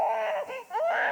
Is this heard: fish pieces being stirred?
no